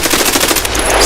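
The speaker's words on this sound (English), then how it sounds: "Shotgun." A rapid string of shotgun blasts from Escape from Tarkov, loud and close, firing in quick succession over about a second with no talk.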